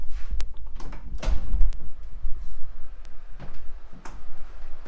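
A home door is eased open to check on a sleeping baby, giving a few soft knocks and sliding scrapes close by, with quiet room tone between the handling sounds.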